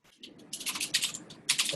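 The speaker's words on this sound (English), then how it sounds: "Somebody who's typing a lot needs to mute themselves." Rapid typing on a computer keyboard during an online workshop call, with soft clicky keystrokes in irregular bursts and close, moderately faint.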